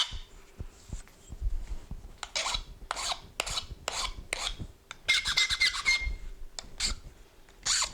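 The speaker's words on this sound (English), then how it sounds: "I gotta file that off." A metal file rasps back and forth across a knapping tool to cut a notch, in steady close strokes with faint squeaks and no talk.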